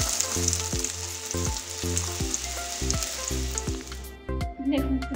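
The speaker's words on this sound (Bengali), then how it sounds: "এখন ফুলকপি আলু ভাজতে বসিয়েছি।" Cauliflower and potatoes frying in a pan, a loud continuous sizzle with a regular series of stirring clinks and scrapes, heard up close without voices.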